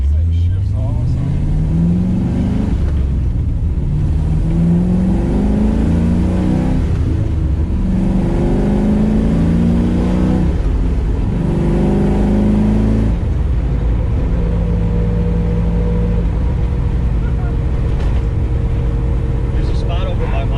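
A car engine revs hard and drops between gear shifts while driving on curvy back country roads, loud and close with several rising and falling pulls, and people talk over it.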